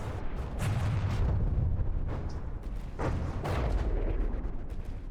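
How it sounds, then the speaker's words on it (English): Bombs falling and exploding in the vehicle combat game From the Depths, with a steady rumbling barrage of deep booms and sharp blasts repeating every second or so, loud and close. "here we had a fall of bombs going on there."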